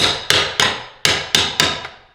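Sharp, loud hammer blows knock stone tiles off during a mansion remodel, about six separate strikes at an irregular pace, each ringing briefly and decaying before the next, with no voices.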